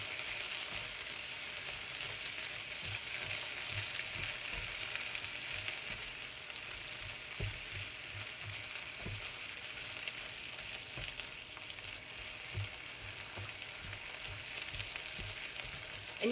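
Shrimp and cabbage sauté with soy sauce in a pan, giving a steady close sizzle with occasional stirring scrapes and no talking.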